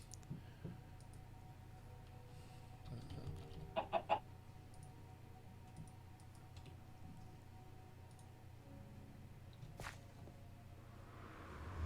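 Minecraft chicken clucking in the Nether, with a short burst of clicky clucks partway through and a later sharp tick, faint over a steady low ambient hum and otherwise quiet.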